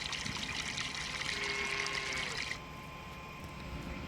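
Water being tipped down a drain on a farm in Farming Simulator 19, a steady trickling pour for a couple of seconds that then cuts to a faint low hiss.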